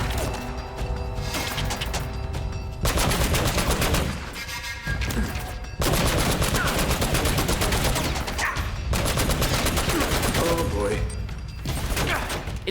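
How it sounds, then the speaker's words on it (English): Heavy turret gunfire in the video game Uncharted: Drake's Fortune, loud sustained bursts separated by brief pauses, with clattering impacts and a voice faintly underneath. "It took me a while to realize I wasn't actually shooting anyone with the turret"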